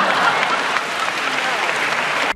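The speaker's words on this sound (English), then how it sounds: "Crowd claps." A crowd applauds steadily and loudly for about two seconds, a dense wash of clapping that cuts off abruptly at the end, with no talking over it.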